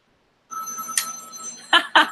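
A telephone rings with a steady electronic tone, broken by two sharp bursts of bell-like ringing near the end, close and fairly loud with no talk.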